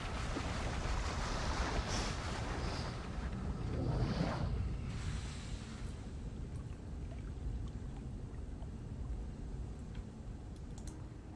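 Water drains in the game Riven, a broad rushing wash that swells loudest early on, then settles into a steady, quieter flowing hiss.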